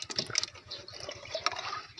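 Liquid fertilizer pours into a bucket of water for a lemon plant, a close, bubbling gush and splash with a quick glugging rhythm lasting about two seconds.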